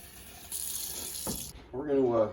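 Tap water runs hard into a pot for about a second, a bright rushing splash that then cuts off as a voice starts speaking.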